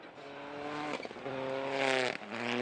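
An AP4 Holden Barina rally car at the Canterbury Rally in New Zealand races past, its engine revving high with gear-change dips, loud and close, with tyre noise over a gravel stage.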